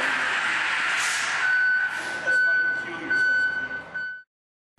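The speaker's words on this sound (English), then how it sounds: "the fire truck just pulled in" A fire truck pulls in and backs up, its reversing alarm sounding a steady high electronic beep under voices and engine rumble before cutting off abruptly.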